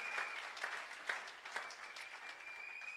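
A church congregation claps together in a steady, fairly soft wash of applause during a French and Lingala prayer service, with a sustained high tone running through it.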